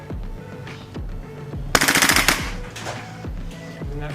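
A WE SCAR airsoft rifle fires a short full-auto burst of rapid clattering shots, loud and close, between quieter mechanical clicks and handling taps.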